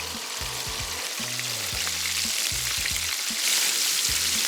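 Chicken wings frying in oil, a steady broadband sizzle that grows a little louder toward the end, with low tonal hums breaking in and out beneath it; no talking.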